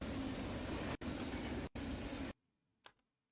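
A train in a Roblox game, a loud steady rumbling roar cut by two brief gaps, then a sudden drop to near silence with one faint knock.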